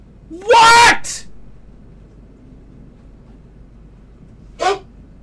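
A dog barks in the video game Starfield: one loud, strained bark, a short gap of quiet background hum, then a second, fainter bark.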